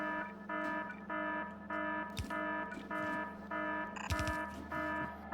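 Repeated electronic alarm beeps in a steady on-off pattern, each tone a bright harmonic buzz, forming the 'everything okay alarm' meme effect; a couple of brief swooping synthetic blips interrupt the sequence.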